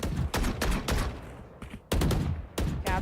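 Vandal rifle firing through a wall in the tactical shooter Valorant during an esports match, rapid bursts of gunfire in several close, loud volleys separated by short pauses.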